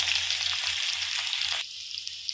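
Potatoes, curry leaves and garlic sauté in a pan for a potato and brinjal fry, giving a steady bright sizzle that drops abruptly to a quieter hiss partway through, with no talking.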